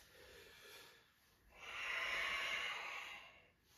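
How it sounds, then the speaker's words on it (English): A deep breath during a yoga exercise: a soft, airy inhale through the nose swelling to a fuller, louder breath, close and quiet, with no talking over it. "Big breath."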